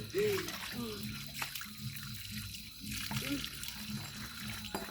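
Water runs steadily from a tap while something is washed by hand, a low continuous splash and trickle heard fairly close with faint voices in the background.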